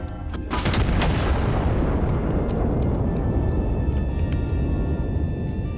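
An artillery gun in the video game Iron Nest firing a high explosive shell, one sharp loud boom at the start followed by a long rumbling decay that fades over several seconds.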